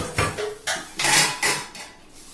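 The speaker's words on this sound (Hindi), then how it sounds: "बर्तन साफ करते हुए" Dishes being washed in a home kitchen: a series of four or five clattering clinks and knocks of pots and utensils, close and fairly loud, with no speech.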